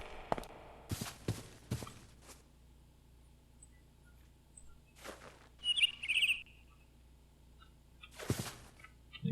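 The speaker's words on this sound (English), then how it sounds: "You got a yellow bird, and a brown bird, and 2 red birds, and a blue bird" In Minecraft, a short bright bird chirp trill sounds once near the middle, faint and brief, among scattered footstep-like thumps and clicks in a quiet game scene.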